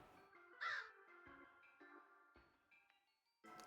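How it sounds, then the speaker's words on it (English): A crow caws in the Darkside Detective game, one clear close call followed by softer harsh croaks, alone over quiet background tones with no talking. "Cute little crow."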